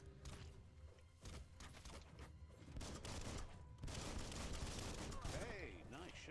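Rapid gunfire from a gun's clip being emptied in the video game Biomutant, a dense, loud volley of shots mixed with thuds and game effects under ongoing talk.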